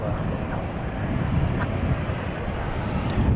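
A jet airliner passes at night at DFW Airport, a steady, loud broadband engine roar that fills the whole stretch without a break, with a faint high whine riding on top.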